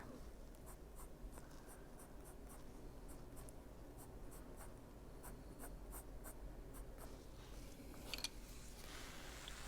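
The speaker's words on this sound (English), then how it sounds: "And that's where the pencil broke, so let's just darken that area there." A pencil shades steadily on paper, a continuous soft scratching with rhythmic back-and-forth strokes, close and quiet, running the whole time without any talk.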